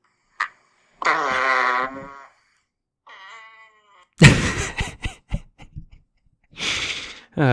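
A fart sound plays back from a fart video, a few drawn-out, bursty blasts of varying length, separated by pauses and followed by spluttery pops.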